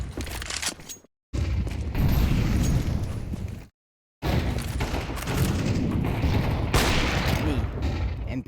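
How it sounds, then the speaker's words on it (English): Gunfire in Counter-Strike during a competitive CSC league match: dense bursts of loud, sharp shots and booms fill the clip, broken by two brief silent gaps. "2 shots right away"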